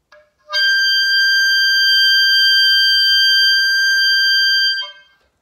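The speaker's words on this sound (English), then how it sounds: "Now I'm going to play G6 as loud and as soft as possible." An oboe holds a single high G6 note, a loud, bright, steady tone lasting about four seconds with a sharp start and a quick release, alone with no talking.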